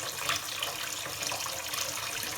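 A newly installed bathroom faucet runs into a sink, making a steady, full rush of splashing water that stays loud and close throughout, with no voices.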